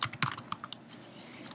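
Fingers tap out quick bursts on a computer keyboard, several clustered clicks up front, a lull, then a few more keystrokes at the end, close and fairly quiet.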